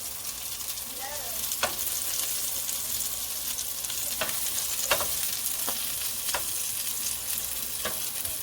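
Beef burgers fry in oil in a pan, giving a steady close sizzle with occasional sharp pops and clicks of a utensil, no voices.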